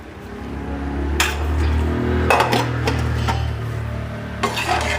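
Vegetable being stirred and mixed with salt and spices in a pan, with close scraping and clattering strokes and a few louder knocks over a steady low hum, no talking.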